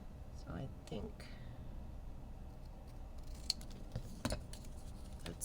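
Scissors snip through paper while a cover is decorated by hand, a few short crisp cuts spaced out, near and fairly quiet, with a person talking over them.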